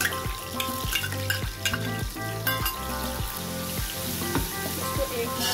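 Ginger-garlic paste sizzles and fries in hot oil with softened onions while a utensil stirs it, making a steady close crackle broken by repeated scraping strokes, with no voices.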